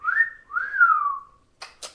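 A person whistles two rising-and-falling tones, the second longer and sliding down, then two short breathy bursts follow, close and clear against silence.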